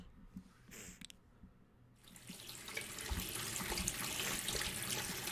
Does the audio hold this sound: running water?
yes